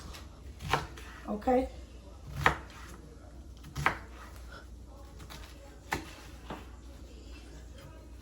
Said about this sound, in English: I'm cutting this onion up